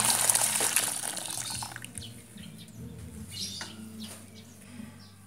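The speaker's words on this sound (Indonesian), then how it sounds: "Selanjutnya air rebusan dari daun serai ini bisa kita masukkan ke dalam baskom." Lemongrass water boiled with the leaves is poured into a large basin, a splashing pour loudest at the start that tapers off after a couple of seconds, leaving faint chirping birds in the background.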